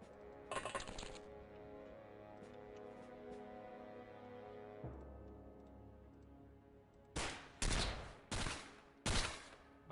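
Bursts of gunfire strike an energy shield in a sci-fi tactical video game: a sustained rumbling volley over several seconds, then four sharp, loud separate bursts toward the end.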